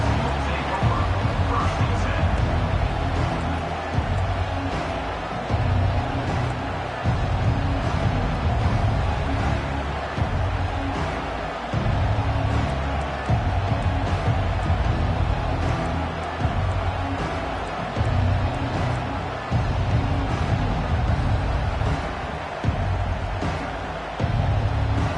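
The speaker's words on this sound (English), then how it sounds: "They challenge this crowd to bring the energy, and I'd say they're doing that." A large football stadium crowd during a game, a dense continuous roar of cheering and babble that swells and dips over about twenty-five seconds, heard from within the stands.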